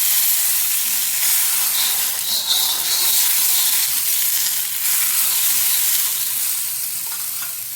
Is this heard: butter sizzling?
yes